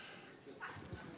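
A small shelter dog at a county meeting whimpering and yipping softly, a couple of brief faint whines over low room noise.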